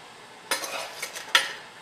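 Medium-coarse ground coffee is scooped into the bottom of a French press, giving a few short scraping, rustling strikes spaced about a second apart, close and fairly quiet, with no talking.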